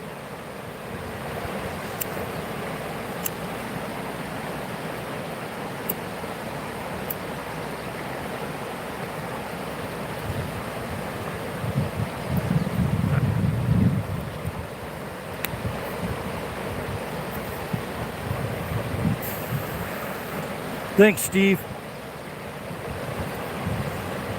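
A river flows steadily in the background while someone fly fishes. The water makes a constant, broad rushing hiss, with occasional wind buffeting the microphone and a few brief spoken words.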